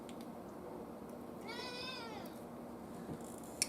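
A pet cat gives one drawn-out meow, faint and a little distant over a quiet room hum, followed by a soft thump.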